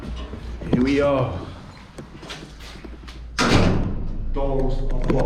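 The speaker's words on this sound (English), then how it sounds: "Now the doors are closed." Heavy basement doors in a Polish brewery swinging shut: a loud thud near the start and a second heavy slam midway, close by, with people talking over and between the closings.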